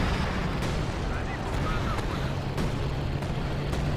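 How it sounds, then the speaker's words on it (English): Artillery barrage from a 105 howitzer in Company of Heroes 2, a dense rumbling wash of distant booms with several sharper impacts spaced across a few seconds, under commentators' voices. "let's see how much damage the arty barrage gets done"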